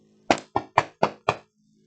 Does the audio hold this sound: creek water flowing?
no